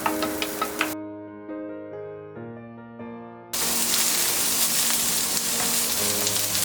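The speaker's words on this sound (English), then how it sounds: "Place oil in the pan and cook the green onion, garlic and onions to infuse the aromatics into the oil." Green onion, garlic and onions go into hot oil in a pan and start sizzling. A few light taps and a tonal hum come first, then a loud, steady frying hiss fills the rest of the clip.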